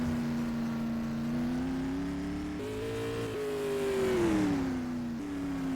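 Jeff Bivens's bright green race car runs a time-trial lap at Madera Speedway in a SUPRS event, its engine a sustained droning whine that climbs and shifts in pitch as it approaches, heard alone without talk.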